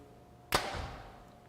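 A 2017 Hoyt Pro Defiant compound bow shoots an arrow on an indoor range, giving one quiet, sharp release thump that rings out in a short echo from the hard walls.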